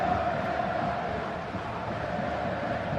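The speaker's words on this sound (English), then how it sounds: "The crowd certainly think so. Just listen to that noise." Dense, steady roar of a large football stadium crowd during a tense late stage of a match, loud and continuous throughout with no pauses.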